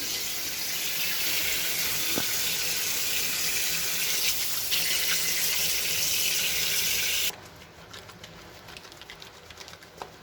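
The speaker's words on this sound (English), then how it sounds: "Okay, so we will start with hand washing." Steady rush of running tap water over hands being washed with Harmony strawberry-scented soap, loud and continuous for about seven seconds before the flow cuts off, leaving faint rubbing and dripping sounds.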